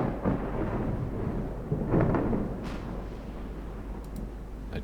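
A thunderstorm in the naval game Ultimate Admiral Dreadnoughts, with deep rolling thunder rumbling over a steady low roar of wind and rain and a few swelling peaks, and no talking.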